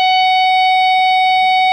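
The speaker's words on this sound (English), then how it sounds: "the first thing that you're going to do is you're going to start off with a harmonic" A bright, bell-like guitar harmonic, sounded by lightly touching the string above a fret, rings steadily and clearly on its own throughout.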